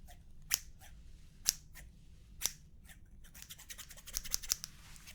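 Scissors snip hair up close during a relaxing ASMR haircut roleplay: crisp, separate metallic snips at about one-second intervals, then a quicker flurry of cuts, with no talking.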